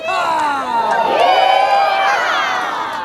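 A large outdoor crowd cheers and whoops at the kickoff of the National Western Stock Show week, a dense, sustained swell of voices with shouts rising over the babble throughout.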